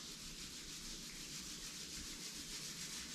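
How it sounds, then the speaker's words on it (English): Palms rub together during a yoga session, making a soft, continuous, hissing friction sound that is close and steady with no voices. "Rub your palms"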